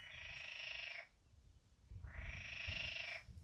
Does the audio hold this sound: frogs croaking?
yes